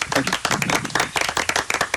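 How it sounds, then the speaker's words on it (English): A burst of enthusiastic clapping from a crowd, dense and continuous for a couple of seconds, fairly close and loud. "Have a round of applause on me."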